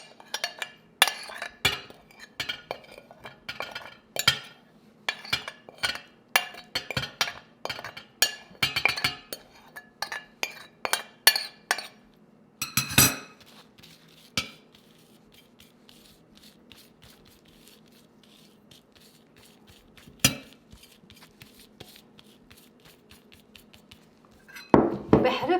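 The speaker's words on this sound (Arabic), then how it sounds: "بحركهم كتير منيح" A spoon stirring falafel spice mix of nutmeg and allspice in a cup, with close scraping and clinking strokes in a busy, irregular rhythm, then a few sparse clinks and taps after a pause.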